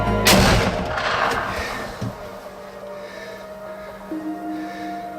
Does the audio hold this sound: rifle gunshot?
yes